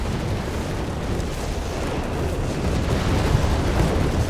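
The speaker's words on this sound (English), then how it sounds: "There we go, whiz-bang barrage." A whiz-bang artillery barrage in Company of Heroes 3 unloads on bunched-up German troops, producing a dense, continuous roar of overlapping explosions and booms that builds slightly toward the end.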